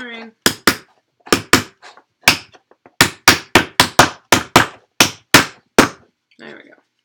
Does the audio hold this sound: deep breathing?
no